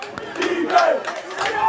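A crowd at a high school football game roars and yells on a fourth-down play, a loud, busy mass of voices with shouts rising above it.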